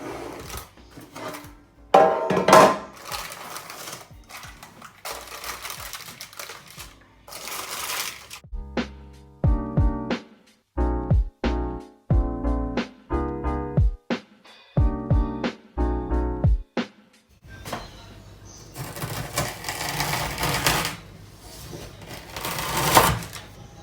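A knife cuts through a hard-frozen Snickers bar, giving a run of sharp, crunchy cracks and snaps in quick bursts between short pauses. The sounds are close and fairly loud, with rustling before and after.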